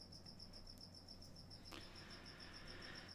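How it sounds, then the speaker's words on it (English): An indoor cricket chirps in a steady, evenly spaced pulse, fairly faint against a quiet room hum. "Ripley, go find that cricket."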